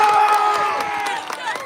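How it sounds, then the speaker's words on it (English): A crowd of supporters cheers at a national-team match against Norway and France, a loud, continuous wash of shouting and whooping voices with scattered claps and no break. "as we let the crowd get a little bit quieter"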